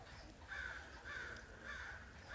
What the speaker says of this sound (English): You hear the birds?